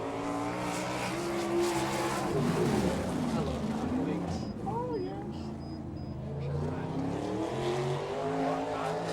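A non-wing 305 sprint car races around a dirt track, engine howling and rising and falling in pitch through the turns, steady and loud, with a commentator talking over it.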